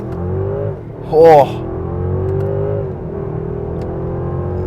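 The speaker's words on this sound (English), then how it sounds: "One more acceleration, starting off in first gear on the gas." A 2024 Mercedes-Benz S 580 pulls away from first gear, its engine note rising steadily as a smooth continuous drone, with a person briefly exclaiming partway through.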